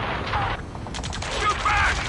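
Ace Combat 7 battle gunfire rattles in dense, overlapping bursts, loud and continuous, with shouting voices mixed in throughout.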